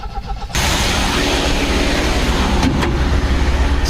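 An MGB car engine runs steadily after a carburetor rebuild, catching abruptly and then holding a loud, close, even idle with a slight rough edge, and no voices over it.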